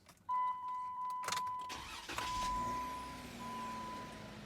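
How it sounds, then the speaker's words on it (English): A car engine cranks with a loud, rough burst, then catches and settles into a steady idle hum. It is fairly close, with no one talking. "Engine is started."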